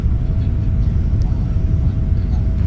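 Jet airliner engines spooling to takeoff thrust on a cargo flight departure, a loud, steady low roar with a faint whine filling the whole stretch, heard from inside the aircraft.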